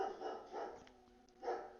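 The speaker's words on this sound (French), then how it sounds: "on entend souvent les voisins, les chiens des voisins qui jappent" Neighbours' dogs barking at a distance, a few muffled barks in quick succession, a pause, then one more, faint against a quiet room.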